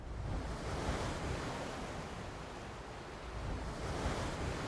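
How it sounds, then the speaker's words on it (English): Waves at sea rolling and washing in a constant broad roar, full and close, with no voices. "No Questions Asked starts with shots and sounds of waves at sea."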